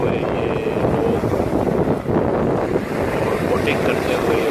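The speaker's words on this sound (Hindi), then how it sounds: "समंदर की तेज़ और धुंध लहरें और इसमें नहाते हुए ये लोग" Strong, churning sea waves at Ramsgate beach in England, a loud continuous roar of surf mixed with heavy wind buffeting the microphone, steady throughout with no distinct breaks.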